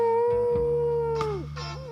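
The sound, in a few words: coyote howling in a cartoon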